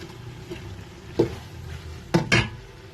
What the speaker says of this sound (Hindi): गोश्त के साथ हम जो है अच्छी तरह बुनाई करेंगे